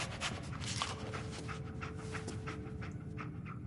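The dog Dogmeat pants rapidly and rhythmically in the Fallout 4 video game, close and steady over faint background ambience, with no talk.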